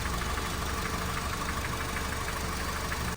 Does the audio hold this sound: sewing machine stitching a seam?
no